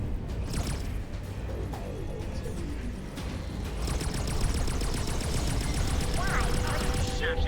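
Friendly gunfire in the space game X4: Foundations, a dense stream of rapid weapon shots and crackling impacts over a steady low rumble, growing busier and louder in the second half.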